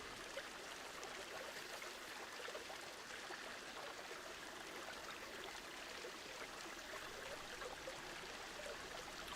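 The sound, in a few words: waterfall special effect in video game Planet Zoo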